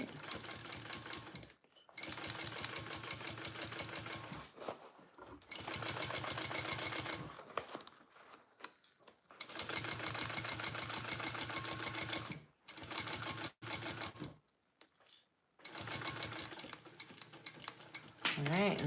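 A sewing machine stitches a Karvi mini backpack in several long, rapid bursts of even needle chatter, broken by brief stops and short gaps.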